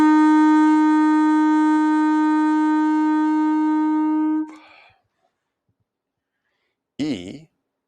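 A clarinet sustains a single note F, a steady reedy tone lasting about four seconds before it fades, followed after a pause by a brief burst of speech.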